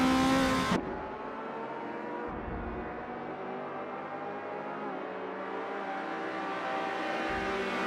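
Race car engines in a racing video game at Bremgarten, led by a 1962 Ferrari 250 GTO: a sustained, loud engine drone after a sharp opening burst, steady and continuous with no talk over it.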